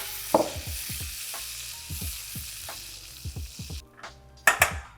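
Marshmallows melt in a pan for Rice Krispie treats and get stirred with a utensil, sounding as soft repeated scrapes and taps over a low sizzle, ending with a couple of sharper clinks, close and alone.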